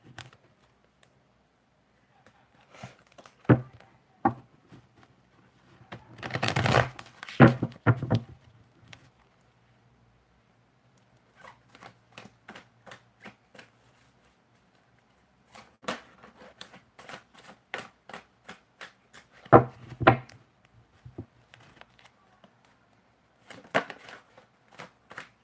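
A deck of tarot cards being shuffled by hand in bursts of soft crisp riffles and flicks, with pauses between, close and fairly quiet, with no talking.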